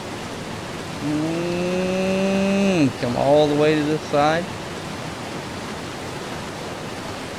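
A video-game waterfall in Ark Survival Evolved gives a steady, broad rushing wash that runs throughout, with a voice talking over it briefly in the middle.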